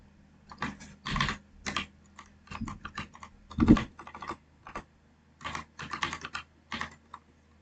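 An IP address being typed on a computer keyboard during Cisco Packet Tracer VoIP configuration, with clustered bursts of close, crisp keystrokes separated by short pauses.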